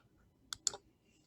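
A few quiet clicks and keystrokes on a computer keyboard, two brief sharp taps close together, soft and near against a faint room background.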